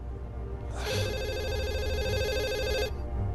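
A telephone rings in the video game The Assembly, a steady electronic trilling ring lasting about two seconds over a low ambient hum, clear and moderately close.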